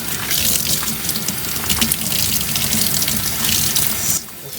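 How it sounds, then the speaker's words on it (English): Paint cups are washed under a strong, steady gush of tap water splashing into a sink, loud and continuous, easing off briefly near the end. "I'm going to show you how to wash your paint cups."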